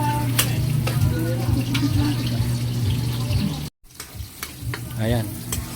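Onion and garlic frying in a pan for pinakbet, a steady loud sizzle with stirring clatters, a brief cutout, then the sizzle returns with a voice talking faintly over it.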